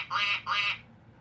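Two short, bright duck-like quacks in quick succession, loud and close, with a faint low hum continuing after them, seemingly a voice imitating a duck.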